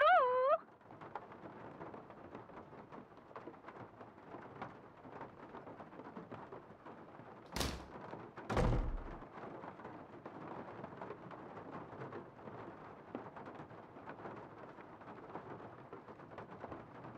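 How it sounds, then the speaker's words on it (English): A thunderstorm rumbles through a scene in the Nancy Drew: Legend of the Crystal Skull game: steady rain hiss throughout, with two loud thunder cracks close together in the middle and a brief tonal game chime at the start. "Because of the big storm that's blowing in"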